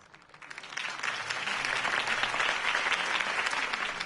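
A crowd bursts into sustained applause after a political campaign speech in a Batman video game, dense clapping swelling quickly and holding steady.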